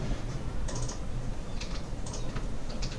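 Steady bursts of keystrokes clatter on a computer keyboard while SQL code is entered, close and moderately quiet over a constant low hum.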